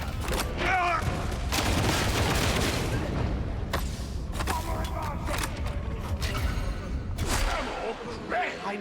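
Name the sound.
volley of gunfire in a video game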